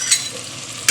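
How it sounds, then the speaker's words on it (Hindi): Green chillies tossed into a pan of frying potatoes with turmeric, giving two short bright bursts of sizzle over a steady low hiss of cooking oil. "इसमें अब हरी मिर्चें जा रही हैं"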